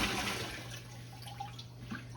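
A brined turkey is lifted out of its liquid, giving a brief watery slosh and dripping splashes, fairly quiet and heard alone with no talking.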